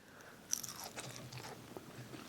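A single crisp bite into a hot cheesy spinach and sausage ball with celery and onion, a short crunch at the start followed by soft, close chewing.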